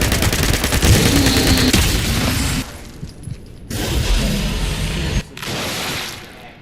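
A 10mm SMG in Fallout 76 fires in loud, rapid automatic bursts, each several seconds long, with brief silent breaks between them.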